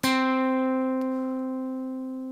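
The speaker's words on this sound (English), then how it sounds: "I don't know about you, but that C note sounds a little bit bland to me." A single C note plucked on guitar rings out with a sharp attack and then sustains cleanly, fading slowly over about two seconds with nothing else heard.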